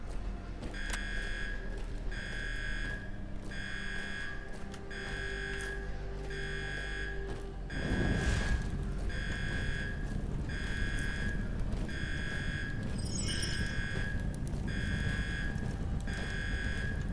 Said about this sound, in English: for a button to reset the alarm on again